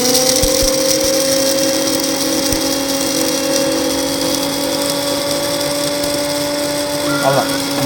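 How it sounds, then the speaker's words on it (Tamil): An electric grinder mills black pepper into fine powder, a loud, steady high-pitched motor whine running throughout, shifting in tone briefly near the end. "பவுடரா, ஃபைன் பவுடராக அரைச்சி வச்சுப்போம்."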